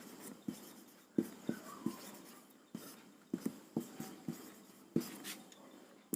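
Chalk strikes and scrapes on a classroom board during a chemistry lesson, a series of sharp taps and short strokes at an uneven rhythm, close and clear with no talking.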